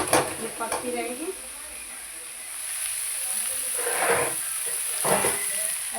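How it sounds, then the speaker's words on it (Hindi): Chopped chaurai greens tempered in a hot pan on a gas stove, a steady close sizzle and hiss with occasional stirring scrapes, with a voice talking over it. "तो देखो इस तरीके से मैंने काट के छोंक दिए"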